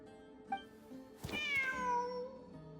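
Cat meowing in the video game Genshin Impact, a single clear, drawn-out meow with a falling pitch, heard alone over a faint background after a brief chirp.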